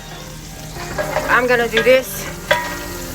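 Bacon sizzling in a pan while being stirred, a steady crackle with a couple of utensil knocks, underneath someone talking briefly.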